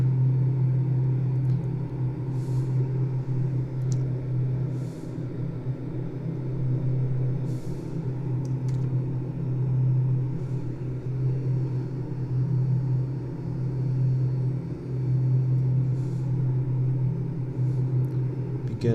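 Thranda Quest Kodiak aircraft engine in a flight simulator, a steady droning hum held at about 2000 RPM, continuous and fairly loud, with faint intermittent higher hiss bursts over the top.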